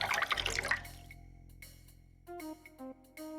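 Blue water sloshes and pours into a toilet in the adventure game Lucy Dreaming, a short watery splash with drips, followed by a few soft tonal chimes from the game.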